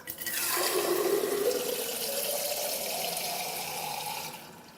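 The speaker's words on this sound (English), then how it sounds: "This time what I'm going to do is I'm going to turn the tap on full blast." A tap turned on full blast gushes steadily into a container, a loud continuous rushing hiss of water that holds for several seconds before cutting off, with no talk.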